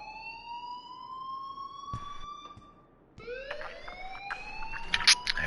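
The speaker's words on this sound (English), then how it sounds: "please turn off that alarm since that's your job" A rising, wailing alarm tone in the video game Life Is Strange, clear harmonics that sweep upward, a brief break, then the wail starts again louder, with scattered clanks and knocks behind it.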